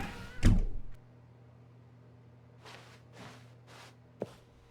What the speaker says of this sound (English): When Stanley came to a set of 2 open doors, he entered the door on his left.